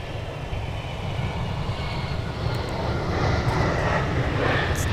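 A Delta airliner at Minneapolis–St. Paul airport gives off a broad, steady jet-engine roar that is fairly loud and builds gradually, heard from a distance with no voices.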